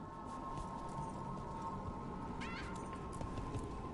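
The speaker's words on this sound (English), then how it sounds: "Oh my goodness, I get to pet the cat." In the video game Dragon Age: The Veilguard, a cat gives a short meow, faint and brief over a steady hum of game ambience.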